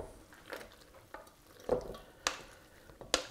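Potato cake batter goes into a buttered charlotte mould with a few soft, wet plops and scrapes, spaced irregularly and faint against a quiet kitchen background.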